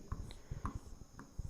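Chalk or marker strokes on a classroom board during a physics lesson on mirror sign conventions, a quick series of short scratchy taps and scrapes, close and clear with no talking.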